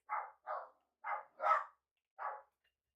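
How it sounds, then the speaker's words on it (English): Dogs bark sharply indoors, five separate woofs in an uneven rhythm with short pauses between, fairly close and with no talking. "My dogs are going crazy"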